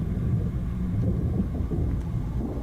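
A steady, rumbling thunderstorm in the Max Payne 2 video game, with heavy low-frequency roar and rain wash continuing unbroken and fairly loud throughout.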